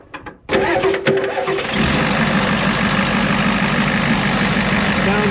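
Bullnose Ford F350 crew cab dually truck engine cranks briefly, catches with a loud roar and settles into a steady, rumbling idle close by.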